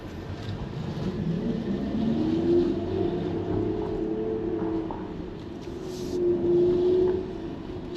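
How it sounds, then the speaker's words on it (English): A Kia EV6 RWD GT-Line in dynamic drive mode emits a soft synthetic low motor drone, like a muffled V8, that rises and falls in pitch while driving, quiet and with no talk over it. "So dynamic kind of sounds like there's a bit of a low V8 or motor type noise"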